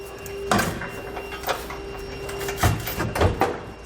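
Metal clunks and scraping knocks as a trailer hitch receiver is lifted into place on the frame of a 2012 Toyota Tacoma, a few sharp impacts over a faint background hum.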